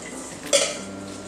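A shrimp taco mixture is stirred in a bowl, giving one brief utensil clink against the dish over a soft, steady background.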